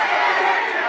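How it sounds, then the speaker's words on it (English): A boxing crowd at Pensacola Bay Center roars in a dense, continuous wash of cheering and chatter. The noise is loud and brief, with a voice talking over it. "The crowd is cheering him on."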